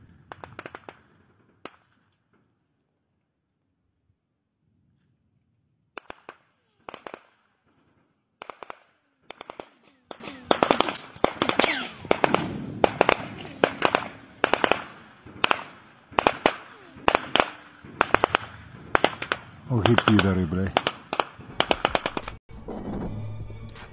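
AK rifle rounds snapping past during combat near Kherson in Ukraine: sparse sharp cracks at first, then rapid loud bursts of gunfire in quick succession, close and intense.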